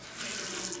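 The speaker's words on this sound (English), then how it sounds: "With the ADA compliant levers for the water, that you'd be able to do the hot and cold water." Water runs from an ADA-compliant lever faucet in a continuous, even hiss and splash, moderately quiet and steady throughout, with no voices over it.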